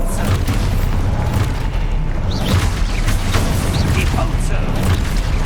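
An Expulso explosion spell goes off during a Hogwarts Legacy fight, heavy booming blasts and crackling bursts packed together, loud and continuous amid other spell effects.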